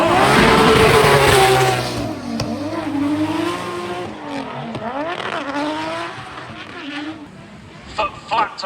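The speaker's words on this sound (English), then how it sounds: "Foot flat to floor in that beautiful S15" A Nissan S15 drift car at a drift event revs hard at full throttle, its engine note climbing and falling with tire squeal, loud and close, then fading as it moves away.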